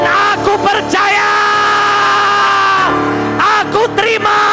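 A church congregation shouts together in loud, overlapping bursts, a massed roar of voices that swells, dips briefly, then rises again.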